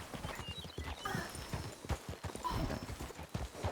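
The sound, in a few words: black horse hooves clip-clopping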